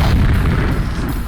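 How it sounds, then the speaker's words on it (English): A flash rocket fired from a flash gun bursts in a video game, a loud, dense low boom that fills the whole moment and rumbles on steadily without a break. "It fires a flash rocket, which on explosion will temporarily blind your opponent if they're looking at it."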